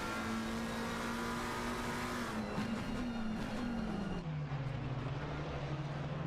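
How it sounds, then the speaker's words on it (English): GT3 race cars lapping Imola in a racing game, a steady engine drone with a gliding pitch that drops as the car lifts and shifts, continuous and moderately loud with no talk. "We have 34 cars racing right now."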